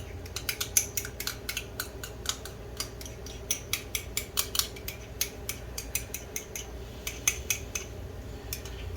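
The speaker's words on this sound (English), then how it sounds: "I'll just find my little spoon here to scoop it out." A little spoon scrapes and clinks against a container while scooping out tomato paste in a home kitchen, quick light metallic taps in uneven bursts, close and fairly quiet.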